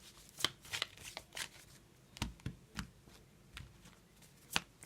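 Small prediction cards handled and shuffled by hand, a series of close, crisp flicks and slaps in irregular bursts against a quiet background.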